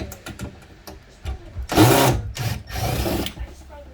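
A power drill backs screws out of a 2020 Grand Design Momentum 28G RV, with two loud whirring bursts of about a second each separated by a short gap, plus faint handling noise around them.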